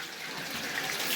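Spring water pouring steadily from a fountain at a tannery in Fez, a continuous close splashing rush with no pauses throughout.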